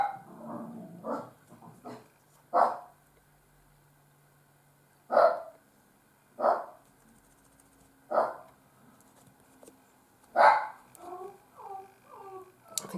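A pet dog barks in sharp bursts indoors, about eight barks spaced a second or two apart, fairly near, followed by a few quicker yips at the end.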